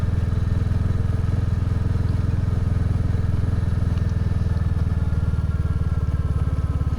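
Royal Enfield motorcycle engine while riding, a loud, steady thumping exhaust beat with rapid even pulses and some clatter, continuous and close throughout.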